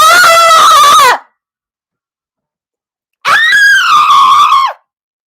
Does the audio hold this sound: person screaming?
yes